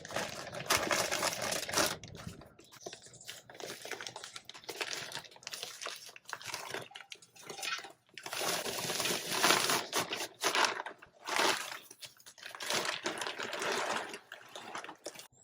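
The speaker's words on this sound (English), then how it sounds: "And then we're just going to fill it up with the soil now." Soil poured into a container for a citrus plant, a loose crumbly rustling and pattering that comes in uneven bursts with short pauses, close and fairly quiet.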